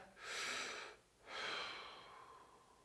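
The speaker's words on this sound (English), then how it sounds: "Take a breath." Someone steadying a rifle takes two slow, deep breaths in close, each a soft airy rush with a short pause between them.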